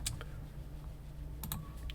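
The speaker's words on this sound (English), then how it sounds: "press T on the keyboard" A few crisp computer keyboard key presses, one near the start and a quick cluster of two or three clicks later, close and quiet against a low steady background hum.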